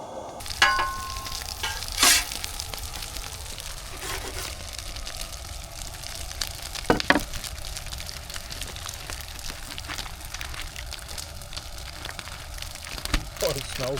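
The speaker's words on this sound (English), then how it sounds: "We'll cook up the extra onion and have a little snack." Extra onion cooks on a grill with a steady crackling sizzle and scattered sharp pops and spits, continuous and close, with faint murmuring voices now and then.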